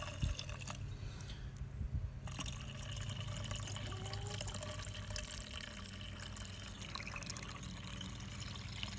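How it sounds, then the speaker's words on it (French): Lukewarm white vinegar pours into the cooling system of a Renault Clio 2, a steady liquid stream and trickle running close and continuous under faint workshop background. "je vais ajouter du vinaigre blanc, du simplement tiède"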